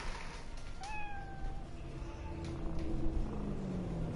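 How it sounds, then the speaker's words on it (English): A Siamese Sphinx cat in Cyberpunk 2077 gives a single short, clear meow over a steady hiss and low rumbling ambience, with no talking. "Is there a cat here? Yeah, there is. It's a Siamese Sphinx cat."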